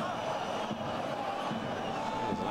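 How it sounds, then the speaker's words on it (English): The stadium crowd at a Rapid Wien versus Austria Wien Austrian Bundesliga match lets out a steady roar of shouting and whistles aimed at the referee, a dense, continuous wash of many voices heard from a distance. "Big cry from the crowd in the referee's direction."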